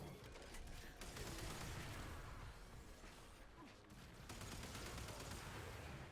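Rattler gun firing in the video game Warframe, a dense rapid barrage of shots with explosive bursts, sustained for several seconds at moderate level, with no clear talk over it.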